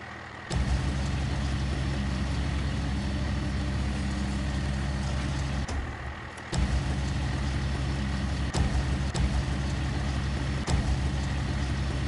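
Truck engine idling and rumbling steadily in the Snowrunner driving game, with a short dip near the middle before it resumes and a few sharp hissing air-brake releases later on.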